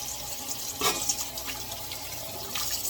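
Tap water runs into a sink to rinse dandelion flowers and stems, a steady close hiss of flowing water with slight splashy changes throughout.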